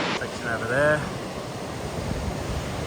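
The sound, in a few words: ocean surf on a beach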